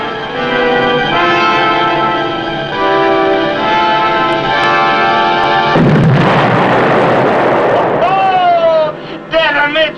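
A WWII submarine's torpedo strikes a ship amidships, a sudden broad explosive roar bursting through a sustained tonal musical score midway, followed by rising swooping tones, with voices present.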